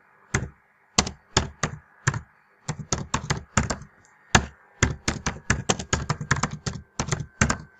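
Fingers type on a computer keyboard while filling in an online school application form, crisp close clicks in irregular bursts and short runs with brief pauses, no voices.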